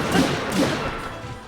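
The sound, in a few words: silver bokoblin axe smashing a lynel's back, video game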